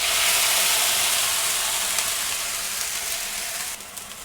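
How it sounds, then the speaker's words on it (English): Green peas hit a hot wok of beef in oyster sauce with a loud, steady broadband sizzle that is strongest at the start and eases off slightly toward the end, with no talking. "So now I'm going to toss in my peas."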